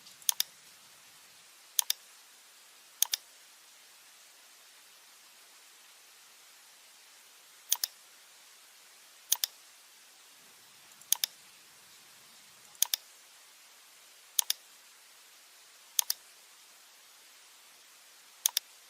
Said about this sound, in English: click on the nodes of the roof